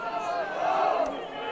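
Crowd cheering at an Open U17 Germany versus Sweden youth match, a broad sustained roar of voices that swells and then eases, with commentary over it.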